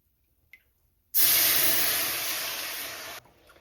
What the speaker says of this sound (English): I'm adding in a cup of milk